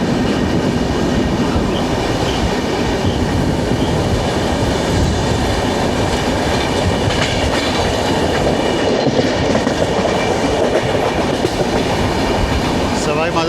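The 12431 Rajdhani Express runs through on the main line, its railcars giving a steady, loud rumble with rhythmic clickety-clack from the wheels that continues throughout.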